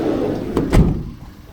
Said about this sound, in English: Closing the side door again